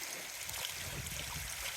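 Gentle water lapping against rocks on a lake shore at Newport State Park, a soft continuous wash and slosh heard close up, steady and low without talk.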